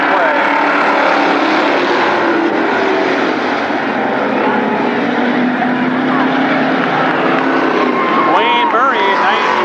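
Mini Indy race cars roar off the green flag start at Berlin Raceway, a loud continuous engine drone filling the track throughout, with a rising whine of accelerating engines near the end.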